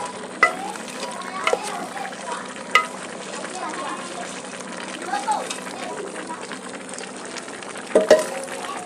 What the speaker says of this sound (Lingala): Nazobalusa yango po esangana